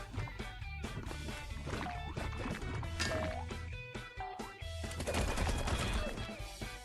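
Video game gunfire while the player character keeps moving, rapid bursts of shots in quick succession with tonal electronic blips mixed in, moderately loud and continuous, with no talk.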